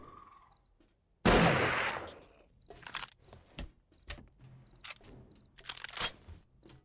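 Zombie apocalypse video game gunfire: a loud sharp blast followed by a string of shorter, crisp shots and clicks at irregular intervals, fairly close and without talk.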